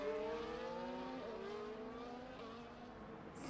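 Race cars in a racing video game circuit, several engines droning and shifting pitch together as they run the track, a steady loud blend with a brief higher squeal near the end.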